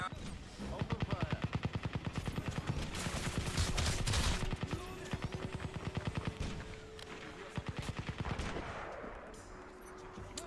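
Rapid automatic gunfire from the Crysis Remastered video game, a long run of evenly spaced sharp shots that swells into a denser burst midway, then continues in steady bursts before fading slightly at the end.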